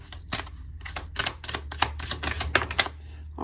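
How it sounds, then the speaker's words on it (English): Tarot cards are shuffled and drawn from the deck in a rapid run of crisp, close papery snaps and flicks over faint room hum. "let me grab one more card here"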